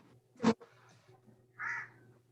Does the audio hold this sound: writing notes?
no